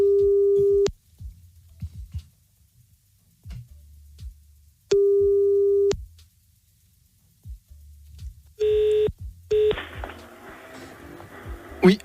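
A telephone line tone while calling a radio prank victim back, with long steady beeps repeating at intervals, then a shorter burst and a line crackle, with faint low background noise between.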